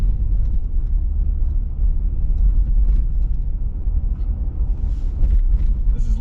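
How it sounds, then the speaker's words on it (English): Car driving east along Lakeshore Boulevard in Etobicoke, a steady low road rumble and engine drone lasting throughout, close and continuous with no talking. "Lakeshore Boulevard we're driving"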